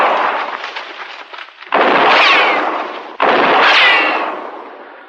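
Two loud gunshots from Marshal Dillon at a gunman hidden in the brush on the open range, each a sharp crack followed by a long rolling echo that fades out.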